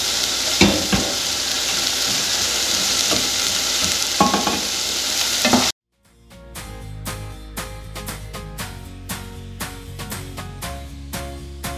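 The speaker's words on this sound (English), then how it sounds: "We just gotta stir this here." Food stirred in a frying pan with browning onions: sizzling frying at first, then a quieter run of quick repeated scrapes and clicks of a utensil against the pan.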